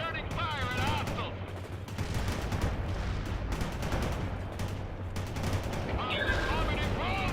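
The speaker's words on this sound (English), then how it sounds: "Bradley returning fire at hostiles!" Rapid bursts of Bradley fighting-vehicle gunfire in the World in Conflict strategy game rattle on continuously amid battle noise, with shouted game voices briefly heard over the start and end.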